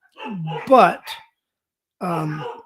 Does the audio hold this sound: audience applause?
no